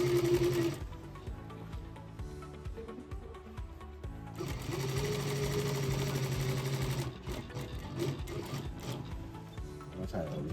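A triple-transport industrial flatbed sewing machine runs at its longest stitch setting, a loud steady mechanical whir with rhythmic needle knocking in two long bursts separated by a brief pause, close up.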